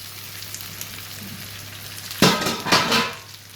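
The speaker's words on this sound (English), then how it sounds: "these have been sauteing in the pan for 5 minutes now" Brussels sprouts sauté in a pan with a soft, steady sizzle, then louder clattering bursts as they are stirred and turned near the end, with no voices.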